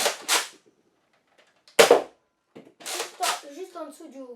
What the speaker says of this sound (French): on a le petit bruit du ressort, pas très agréable quand on tire